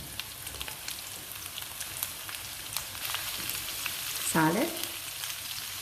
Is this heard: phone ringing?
no